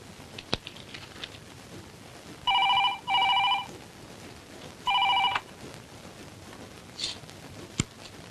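Telephone ringing in bursts, two close rings and then a third after a pause, while a call is placed to a ladies' hostel, with soft clicks of dialing before and after in a quiet room.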